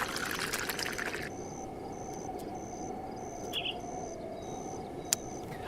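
Water poured for drinking, a continuous trickling pour that stops after about a second, followed by quiet outdoor ambience with rhythmic insect chirps and a faint bird call.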